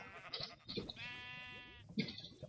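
Sheep bleating in Minecraft, a few wavering game bleats in a row with short gaps, fairly close and clear, with no talking over them.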